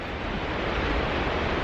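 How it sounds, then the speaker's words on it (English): Roaring river rapids at Storforsen on the Pite River, a dense, steady rush of churning water filling the space loudly and continuously, with no voices. "there are also a lot of rapids in this Peter River over here"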